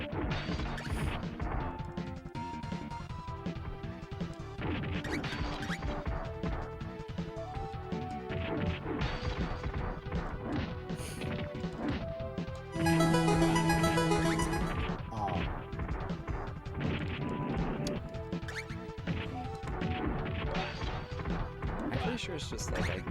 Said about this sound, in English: I'm pretty sure it's just like I gotta break the glass.